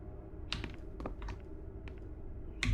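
Typewriter keys clacking inside the video game Call of Cthulhu: Dark Corners of the Earth, a handful of separate crisp strikes spread irregularly over a few seconds, close and clear with nothing else over them.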